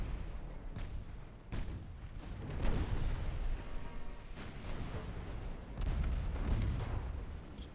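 Battleship guns fire in the naval warfare game Ultimate Admiral: Dreadnoughts, during a German 1890 campaign battle, producing heavy rolling booms and rumbling blasts that overlap in a dense, continuous barrage.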